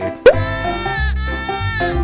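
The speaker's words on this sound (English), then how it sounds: "sheep" A sheep gives a loud, close bleat that wavers and stretches on for a couple of seconds after a sharp onset, heard alone.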